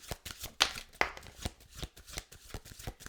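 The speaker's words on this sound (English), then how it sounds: "So we're going to go get a few cards from the Elements of Life Tarot." Elements of Life Tarot cards shuffled by hand, a quick run of crisp papery riffles and soft flicks repeating in an uneven rhythm, close and fairly quiet, with no talking.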